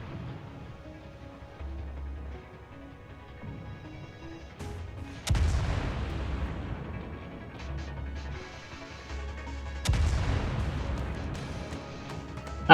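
Battleship main guns firing in the World of Warships naval combat game, two heavy booming salvos several seconds apart with long rumbling decay over steady ambient engine and sea background, no talking.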